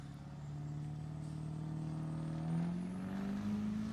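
A Chevrolet Silverado crew cab diesel truck on slicks at all four tires drag racing at a raceway, its engine a steady loud drone that slowly rises in pitch as it accelerates, heard from a distance without talk.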